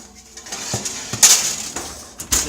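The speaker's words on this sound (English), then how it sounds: "So we then take our tray and we stick it down in the oven." A metal baking tray of sour cream biscuits slid into an oven, with close clanks and scrapes of metal on the rack, a sharper bright clatter midway and another at the end.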